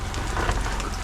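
Steady rain at an off-grid cabin in Vermont, a dense close patter of drops hitting surfaces, continuous and fairly loud with no voices.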